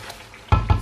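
Chopped tomatoes dropped into chicken korma masala frying with spices, giving a sudden loud sizzle and two quick stirring bursts after a quiet simmer.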